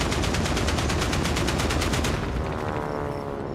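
Friendly aircraft strafing run in Hell Let Loose Vietnam: a sustained, loud rapid-fire burst of gunfire pounding for about two seconds, then fading into a rumbling tail with no voices.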